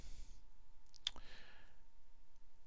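A single sharp computer mouse click in a quiet room, preceded and followed by faint soft rustling.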